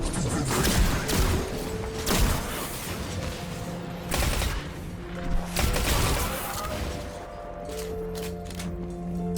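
Weapon fire in Destiny 2, dense bursts of shots and heavy impacts stacked over game music and effects, loud and busy with repeated strong hits throughout.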